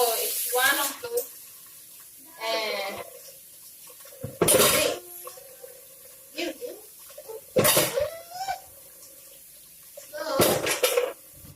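Pots being scrubbed and rinsed at a sink, with separate bursts of clanking metal and splashing water spaced apart and a faint steady hum between them.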